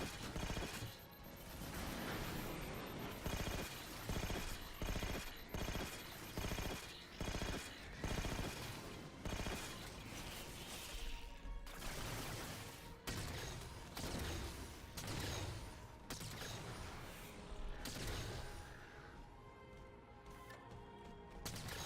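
Rapid, loud gunfire from a gun in Halo 4 rattles in dense repeated bursts across the whole stretch, with a few sharper impacts mixed in and a brief quieter tail at the end.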